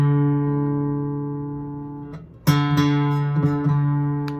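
Guitar strings sounding together as the D string is tuned against the A string fretted at the fifth, a sustained ringing tone followed by fresh plucks with slight beating, close and clear.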